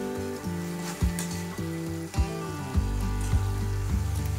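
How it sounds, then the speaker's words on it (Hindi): Spices and masala frying in hot oil in a pan while cooking chana dal masala, a steady close sizzle with a few brief stirring scrapes, no voices. "और सभी को मसाले के साथ अच्छे से पकाना है जब तक हमारा अच्छे से मसाला से तेल ना छूटे"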